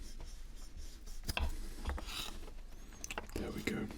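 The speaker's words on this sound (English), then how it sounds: "I'm going to cut the tomatoes." A knife slicing fresh tomatoes for a sandwich in a close, quiet setting, giving soft cuts and rubbing scrapes with a few sharper taps against a board.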